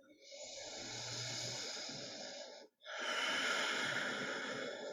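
Two deep, full breaths during chair yoga, a long airy inhale followed after a short pause by an equally long exhale, close and soft with a breathy hiss.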